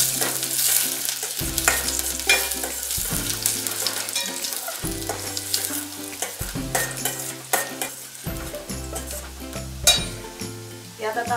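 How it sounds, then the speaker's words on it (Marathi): Onion sautéing in hot oil in a wide pan for a Malvani curry tempering crackles and sizzles with stirring scrapes, all beneath steady, rhythmic background music. "कांदा थोडासा परतून घ्यायचा."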